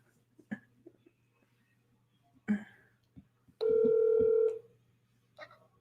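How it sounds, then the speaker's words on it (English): Telephone dialing tones for an outgoing call, a sustained dual-tone beep heard clearly amid faint background sounds and a low steady hum, with a brief voice nearby. "we're dialing."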